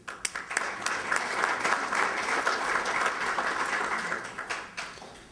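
An audience at a concrete pavement preservation session applauds to welcome a speaker, a dense burst of clapping that swells quickly and holds steady for several seconds before tapering.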